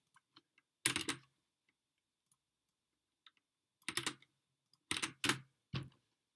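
Bursts of key presses on a computer keyboard, close and quiet, come in short rapid clusters separated by pauses, with a few isolated single taps in between.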